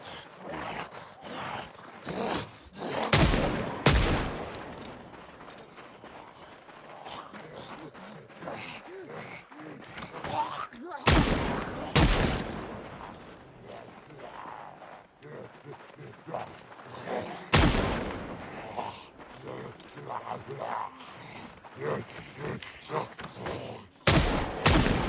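Gunfire in Project Zomboid: several sharp, loud shots, single and in short bursts, spread across the stretch between quieter rustling game sounds.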